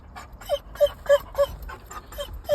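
Pet pup whining in a series of short, high, nasal whimpers, about five close cries spaced roughly a third of a second apart, soft and alone.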